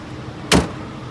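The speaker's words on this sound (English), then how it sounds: "I want to make sure my door opens and closes properly" A truck door gives a single short, sharp clunk close by, set against a quiet background hum.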